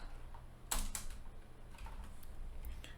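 A computer keyboard clicks out an email address in a short, faint cluster of a few sparse keystrokes against a quiet background.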